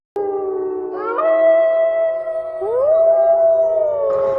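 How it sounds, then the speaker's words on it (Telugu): Jackals howl on a rocky hill at an early-man site near Koppuru village: two long, clear, overlapping howls that rise and bend in pitch, fairly close and loud against quiet surroundings. "ఈ నక్క అరుపులకు భయపడేవాడు కాదు"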